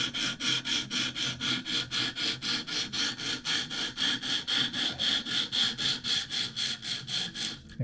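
Rhythmic rasping strokes of a very dull Spyderco Tenacious knife blade being sharpened on a KME guided sharpening system, about three passes per second, harsh, gritty and close, continuing steadily with no talking.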